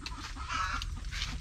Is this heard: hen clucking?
yes